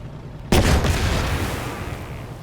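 A tank firing in the WW2 strategy game Headquarters: WW2, a single loud cannon boom that cuts in sharply and then rolls off in a long fading rumble.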